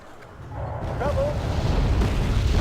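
Bombing explosions in the game Wargame: Red Dragon, a loud sustained low rumble of blasts that builds and holds, with a brief higher whine partway through.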